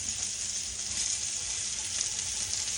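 Sweet potato fries and pork chops sizzling in a hot pan, a steady bright hissing crackle that holds evenly throughout, close and moderately loud.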